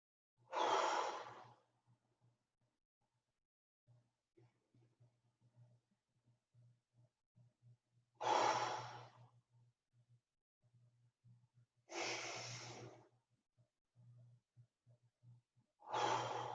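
Deep breaths during a Pilates exercise on a mat, four long airy inhales or exhales spaced several seconds apart, close and fairly quiet, with a faint low hum in the background between breaths.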